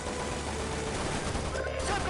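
Rapid bursts of gunfire from the shooter game Shadow Ops: Red Mercury form a dense, continuous clatter of shots, loud and close.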